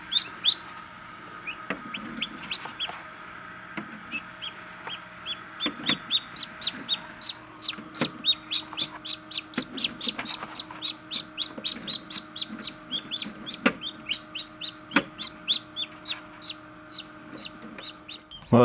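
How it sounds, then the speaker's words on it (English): Chicken chicks hatching in an incubator under a clear plastic dome, giving a dense run of high, rapid peeping chirps that grow busier over time, close and fairly quiet, with a few sharp knocks and no talk. "I actually have some chicken eggs hatching right now"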